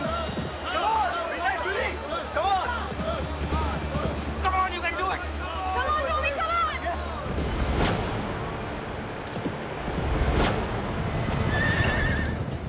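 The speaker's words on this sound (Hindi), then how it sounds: "रेस कोर्स की ताजी सुबह में 2016 रॉयल डर्बी की शुरुआत होती है और 400 मीटर के मार्ग पे घोड़े पहुंच चुके हैं और पहले स्थान पर है कारतून।" Racehorses at the 2016 Royal Derby racecourse neigh and whinny loudly while hooves clip-clop along the track, with a crowd murmuring and speech running throughout.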